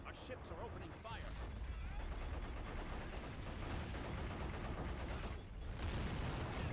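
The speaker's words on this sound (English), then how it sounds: "Our ships are opening fire." Naval ships open fire in Men of War: Assault Squad 2, a dense, continuous roar of gunfire and artillery blasts layered over one another, loud and sustained through the whole stretch with a brief dip near the end.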